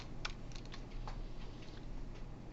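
Soft, quick keystrokes on a computer keyboard during a programming lecture, a short scattered burst of clicks over a steady low hum of room noise, faint and fairly close.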